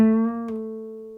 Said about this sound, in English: is a bend, and it means to play the 2nd fret on the 3rd string,